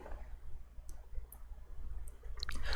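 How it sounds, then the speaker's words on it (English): Scattered soft clicks from a Nintendo Switch menu being navigated, a few sparse taps spread over a low steady hum, with a quick cluster of clicks near the end. "it's just clicking noises from the Switch menu"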